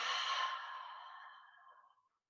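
A single long exhale during a beginner yoga session, a soft breathy rush that starts fairly strong and tapers gradually into silence over about two seconds.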